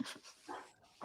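A pet dog pants and gives soft whimpering huffs in short uneven bursts, faint and somewhat distant in a quiet room.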